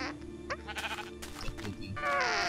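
Sheep bleating in the video game Minecraft, several wavering bleats near the start followed by more game sounds, with a denser burst of noise toward the end; no one talks.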